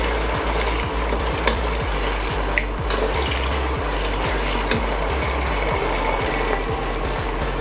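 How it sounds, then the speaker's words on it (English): Meat frying in a pan as the base for a Cameroonian bean dish, a continuous sizzle and crackle with a low rhythmic throb beneath it, fairly loud and unbroken, with no talking. "We allow our meat to fry for about 2 minutes,"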